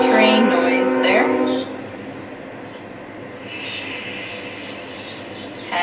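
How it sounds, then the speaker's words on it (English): A train passing nearby, with a loud tonal horn-like blast over a rumble for the first second and a half, then a steady softer rolling rumble that carries on to the end. "See if your exhale can take a little longer than our train noise there."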